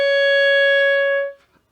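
A clarinet sounds a single sustained high E flat, clear and steady for over a second before it cuts off. A few faint key clicks follow.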